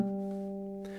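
A single guitar harmonic chimed at the 15th fret, a clear bell-like tone ringing alone and slowly fading over about a second.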